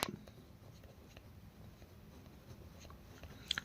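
Pen on paper during a math lesson: soft close scratching strokes that run steadily and end in a couple of sharper taps, with no voices over them.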